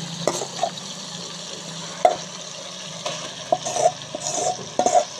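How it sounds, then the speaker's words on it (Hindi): Cluster beans (gawar phali) stirred into frying masala in a pan for a Pakistani-style curry, with steady low sizzling and several sharp scraping clinks of the spoon against the pot, no talking. "तो अब इसमें शामिल करेंगे ग्वार फली की सब्ज़ी"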